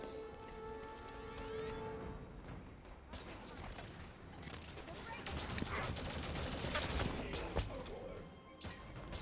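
Light rifle and binary rifle gunfire in Halo 5: Guardians, with rapid bursts of sharp shots, crashes and impacts mixed into busy game noise and a music bed, running steadily throughout.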